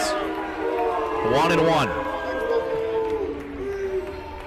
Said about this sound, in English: The Warrior crowd is clapping at the CUW crowd